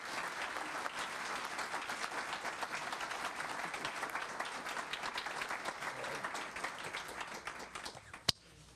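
An audience claps warmly to welcome the Bowden family and Judge Hunter Carroll at a superintendent swearing-in ceremony, steady dense applause from a seated crowd that carries on evenly before ending with a single sharp knock.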